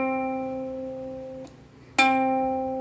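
A ukulele C string plucked for tuning, heard alone and close: one note rings and fades, then is briefly damped before a second, brighter pluck rings out.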